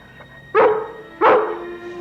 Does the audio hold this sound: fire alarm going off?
no